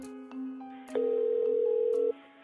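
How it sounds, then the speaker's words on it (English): A telephone dials an emergency call, giving a short sequence of electronic keypad beeps and steady tones, with a sustained tone holding for about a second before a brief click at the end. "Desperate to locate Tanya, Tom makes an emergency phone call"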